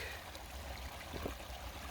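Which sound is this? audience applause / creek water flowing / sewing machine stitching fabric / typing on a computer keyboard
creek water flowing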